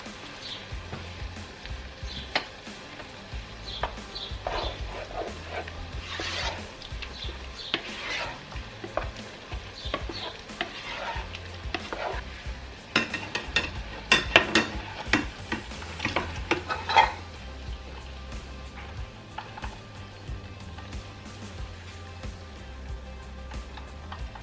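Onions cook in a pan with a steady low sizzle and frying crackle, broken by occasional stirring scrapes and light utensil clinks, fairly quiet and close throughout.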